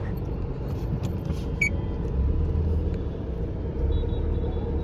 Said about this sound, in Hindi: चारों तरफ से इस तरह से ट्रैफिक आके एक जगह इकट्ठी हो जाती है